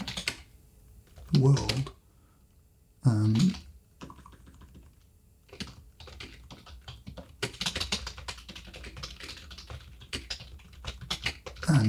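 Someone types on a computer keyboard with soft clattering bursts of keystrokes, irregular and close, interrupted by a few louder thumps and a brief spoken word.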